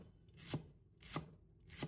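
A knife slices a length of green onion on a cutting board in three evenly spaced, crisp thuds, close and quiet with no talk.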